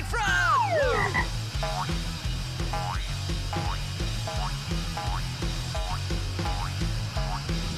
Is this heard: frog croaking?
yes